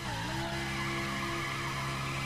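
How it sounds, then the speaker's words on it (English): A Lamborghini Huracan in The Crew launches with heavy wheelspin, tires squealing loudly and continuously over a rising engine drone, steady and close throughout. "let's see how quick this thing launches"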